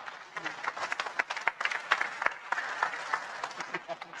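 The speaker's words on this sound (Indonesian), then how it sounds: "Tepuk tangan untuk beliau" Scattered audience applause for a speaker at a religious lecture gathering, uneven claps of moderate loudness with crowd murmur and a voice underneath.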